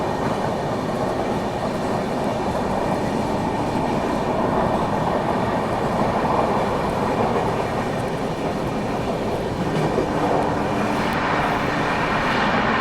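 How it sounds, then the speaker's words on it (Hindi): A special passenger train running on rails, heard from inside as a loud, unbroken rumble of wheels and carriage noise for the whole stretch, with no voices. "अभी हमारी ट्रेन मैहर पहुंचने वाली है"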